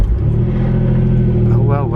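The engine of a Renault Clio V6 that has been sitting unused starts into a loud, steady low idle rumble, close by, with a voice talking over it.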